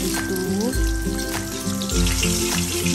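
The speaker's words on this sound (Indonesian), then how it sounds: "Nah gorengnya gak usah terlalu mateng karena nanti juga tambah kering." Gourami fish frying in oil in a small pan gives a constant close crackling sizzle, with a few dull knocks and thuds from handling the pan mixed in.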